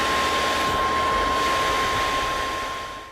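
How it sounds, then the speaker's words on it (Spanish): A Totcooly 3-in-1 Kickstarter gadget runs in air-conditioning mode, its turbine and lower Peltier-cooling fan producing a loud, steady whooshing whine with a thin constant tone, fading slightly at the end. "en el modo aire acondicionado se suman el ruido de la turbina y el ruido del ventilador de la parte inferior"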